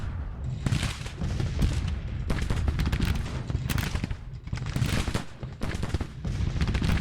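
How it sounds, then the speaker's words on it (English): Volleys of musket and long-range Whitworth rifle fire crackle across a Civil War battlefield in Grand Tactician: The Civil War, loud overlapping shots and booming bursts in irregular clusters with brief lulls between. "these long-range Whitworth rifles from Winder are already causing havoc there"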